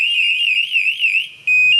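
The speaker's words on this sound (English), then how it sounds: "the receiving TPASS 3 TW will sound a rapid, ringing tone" A Grace TPASS 3 TW train detector sounds a rapid, warbling electronic alarm tone, loud and close, which breaks off briefly and then returns as a steady high beep.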